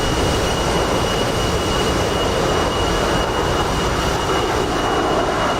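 A-10C jet aircraft engine in the DCS flight simulator game over the Persian Gulf, a loud continuous roar and whine holding steady without a break, with no talking.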